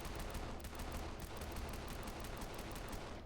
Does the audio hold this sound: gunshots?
yes